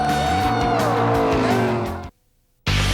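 A Pontiac Grand Prix NASCAR race car screams past with a loud, shifting engine note for about two seconds, then a brief silence before the roar cuts back in.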